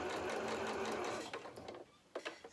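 Sewing machine stitching around the seams of a fabric doll's arm, a steady loud motorized whir that slows and stops, then resumes in a few short bursts.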